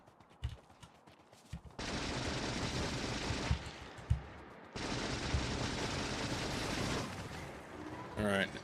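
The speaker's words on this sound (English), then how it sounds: "We're gonna go solo machine gun with good ammo." Machine gun fire in a ship combat video game, with two sustained loud automatic bursts of about two seconds each, separated by a short pause and set against quieter game sounds.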